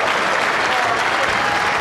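Bowling crowd at the Weber Cup applauding a shot, a dense, steady burst of clapping close and loud throughout, with a voice speaking over it.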